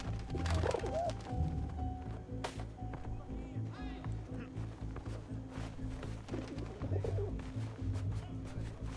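Pigeon cooing in the video game 11-11 Memories Retold, soft repeated coos over a steady game soundtrack and ambient hum, with occasional clicks.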